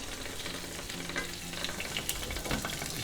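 Butter sizzles and foams in a hot pan around a chicken ballotine, giving a steady close crackle with occasional sharper pops and spatters.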